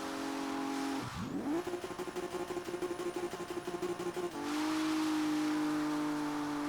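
A car tries a rolling burnout, its engine revving up to a sustained steady drone with tires spinning, then dropping back to a lower idle-like hum; close and loud, with no talk over it.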